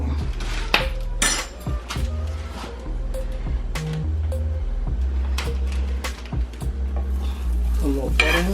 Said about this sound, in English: A little butter in the pan.